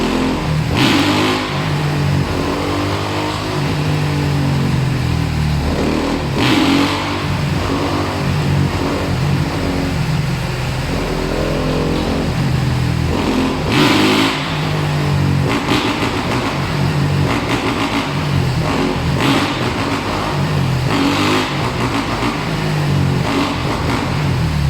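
A motorcycle engine on a WheelieForce wheelie simulator revs continuously and loudly, throttle rising and falling in repeated swells and dips, with brief sharper bursts, all close and sustained without pause.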